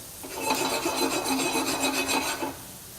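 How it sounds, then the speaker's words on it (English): Spice seeds toasting in a hot pan give off a dense, crackling sizzle that swells for about two seconds, then drops away quickly. No one speaks. "We can hear these seeds popping"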